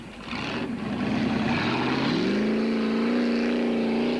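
Motortech Jimco race car engine at full throttle during the Toyota 1000 race, a loud sustained roar that climbs in pitch as it revs up, then holds a steady high whine, close by and with no talk.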